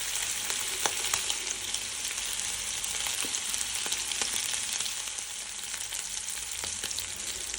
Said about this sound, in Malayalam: ആവശ്യത്തിന് വെളിച്ചെണ്ണ ഒഴിച്ച് എണ്ണ ചൂടാകുമ്പോൾ 1 തണ്ട് കറിവേപ്പിലയും ഇട്ട് അതിൻ്റെ മുകളിൽ നമ്മൾ നേരത്തെ മാരിനേറ്റ് ചെയ്ത് വെച്ച നെത്തോലി ഓരോന്നോരോന്നായി ഇട്ട് കൊടുക്കാം